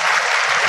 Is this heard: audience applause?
yes